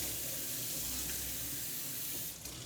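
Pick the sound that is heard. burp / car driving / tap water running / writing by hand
tap water running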